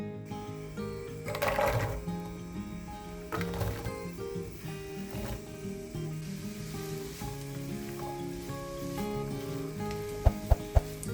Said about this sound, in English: Fry the onion